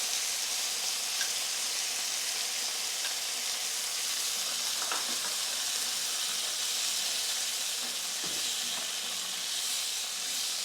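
Plantains and beans cook gently in a pan with chili sauce, giving a steady, soft sizzling hiss throughout with faint pops and no talking.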